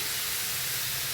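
Meat sears and is stirred over high heat in a pan, giving a dense, loud, continuous sizzling hiss with no talk.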